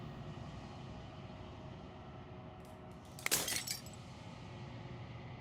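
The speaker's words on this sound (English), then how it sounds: "As the final fragment of glass shatters" Glass shattering in the game Slay the Princess: a brief bright burst of breaking, tinkling shards over a low, steady ambient drone, followed by a few scattered faint clinks.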